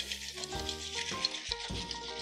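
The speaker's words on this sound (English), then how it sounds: "this is called a rum swizzle because to make it you need to swizzle it, and this is swizzling" Rum swizzle drink being swizzled with a swizzle stick through crushed ice in a glass, giving quiet crackling, clinking and swishing ice sounds in irregular bursts.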